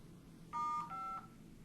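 Two telephone keypad tones, star then five, pressed on a conference call phone, each a short clear beep in quick succession over a faint background hum.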